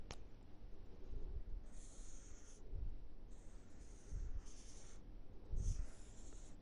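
Strokes of a pen or marker drawing a cosine curve on a board, four scratchy squeaking passes at an even pace, close and fairly quiet.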